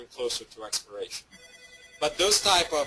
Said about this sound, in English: Sorry about the phone, guys, but I don't even know how to shut it off.